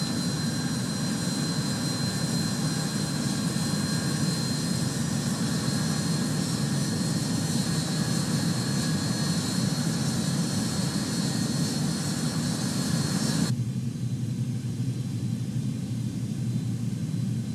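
Antonov An-225 with six jet engines spooling up on its takeoff roll in Microsoft Flight Simulator 2020, a steady, loud, broadband jet roar that holds for most of the stretch before the higher hiss abruptly drops away near the end.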